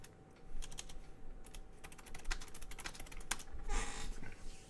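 Rapid clicking keystrokes on a computer keyboard come in irregular bursts over a steady low hum, with no talking, close and fairly clear.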